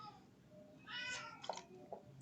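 A cat meows in a drawn-out, wavering cry followed by a couple of shorter yowls, faint and somewhat distant against quiet room tone.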